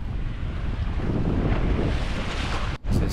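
A sailboat under way on the open Pacific Ocean, with loud steady wind roaring across the microphone and broadband rush of water and waves throughout, briefly dipping near the end before resuming.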